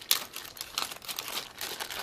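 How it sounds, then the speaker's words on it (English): A blue plastic bag crinkles and rustles in bursts while a phone box's contents are unpacked, with close, crisp crackles and scattered sharper snaps. "Inside this blue plastic bag here,"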